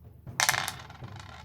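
Dice are tossed onto a table during a Warhammer tabletop battle, a sudden bright clatter followed by a few scattered rattles as they settle.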